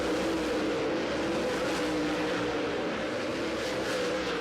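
Race cars circling an oval dirt track at a memorial race, a steady, dense engine roar from many cars at once with no clear pass-bys, loud and continuous throughout.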